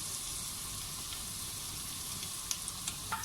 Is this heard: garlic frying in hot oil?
yes